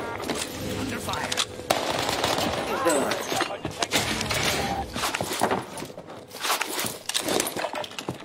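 Game gunfire crackles almost continuously in rapid automatic bursts with sharp individual shots, dense and close, while voices talk over the shooting.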